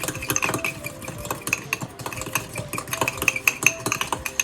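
Pure horseradish being stirred into a scoop of sauce in a bowl, a busy run of close scraping and clicking utensil strokes with no talking.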